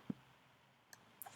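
A computer mouse gives a few faint, sharp clicks close up in an otherwise quiet room, spread across about a second.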